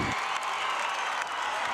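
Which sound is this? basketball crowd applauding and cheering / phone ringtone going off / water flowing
basketball crowd applauding and cheering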